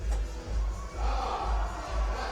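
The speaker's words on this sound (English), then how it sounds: "crowd is cheering" A crowd at a bouldering competition final roars in loud, pulsing waves of cheering that swell and dip with no clear speech.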